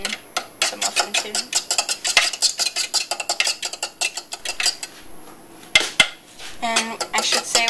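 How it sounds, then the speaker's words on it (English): A fork scrapes and taps rapidly against a metal muffin tin while breaking up eggs, making a dense run of sharp metallic clinks and scratches close by, with a brief voice near the end. "you take a fork and you break them up. Kind of like you're scrambling them in the muffin tin"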